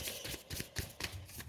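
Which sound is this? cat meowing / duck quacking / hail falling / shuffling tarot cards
shuffling tarot cards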